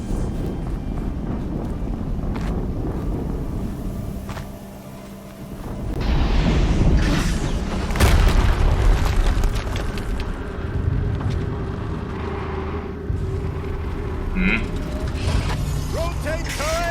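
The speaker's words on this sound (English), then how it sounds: "Another explosion." An explosion in the Horizon Zero Dawn video game: deep rumbling blasts surge over constant mechanical whirring and wind-like noise, with voices speaking in the game.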